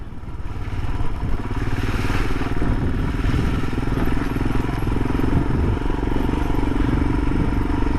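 A motorcycle passes on a country road among the Derbyshire limestone hills. Its loud engine drone swells in close within the first seconds and then holds steady and near to the end.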